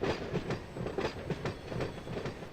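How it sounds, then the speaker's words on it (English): A multi-level freight train rolls past in the Run8 train simulator, its wheels beating a steady clickety-clack rhythm over rail joints, close and continuous with no voices. "It's a multi-level train coming in."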